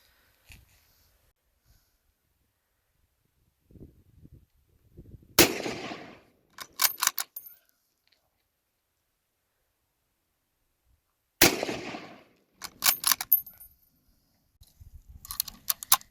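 Two sharp, loud rifle shots from a military surplus rifle ring out at an outdoor range several seconds apart, each trailing off in a brief echo, with quieter clicks and handling noises between.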